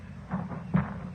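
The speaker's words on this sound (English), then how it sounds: "You shot him. You shot my boy." Two brief, muffled gunshot bursts ring out a moment apart in a Western radio drama, the second sharper and louder, over a low background hum.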